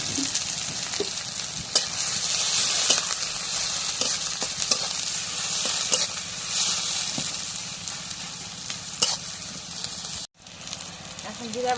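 Cooking oil sizzling in a hot pan for goat meat, a steady loud hiss with occasional stirring scrapes and pops, and a brief dropout near the end.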